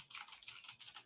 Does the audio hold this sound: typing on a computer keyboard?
yes